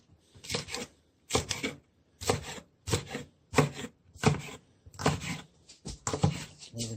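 A knife chops green zucchini on a cutting board for a baked casserole, eight crisp separate strokes in a loose regular rhythm, close and clear with quiet pauses between cuts.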